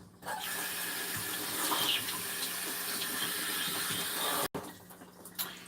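Tap water runs steadily into a sink while a yellow squash is rinsed under it, a close, continuous splashing that cuts off briefly near the end before resuming faintly.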